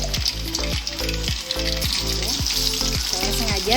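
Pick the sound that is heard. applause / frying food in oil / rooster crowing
frying food in oil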